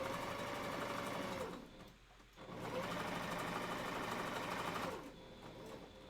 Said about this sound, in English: mine has a backstitch button, so I just hold this down and it'll go a few stitches until I let go